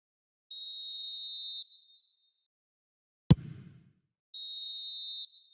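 Referee's whistle in an eFootball video game match: two long, clear whistle blasts separated by a gap, with a sharp thud between them.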